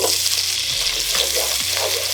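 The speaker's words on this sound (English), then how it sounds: "Have a stick of butter. Melt your butter all the way." Stick of butter melting and sizzling in a pan for turkey gravy, a steady loud crackling fry with a few soft stirring scrapes, close up and without talk.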